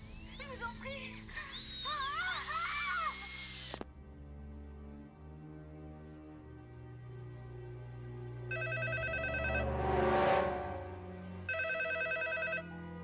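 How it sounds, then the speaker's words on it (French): A telephone rings in two short bursts of electronic ringing near the end, following louder music and rumbling; the setting is a tense thriller scene. "Alors pourquoi le téléphone sonne?"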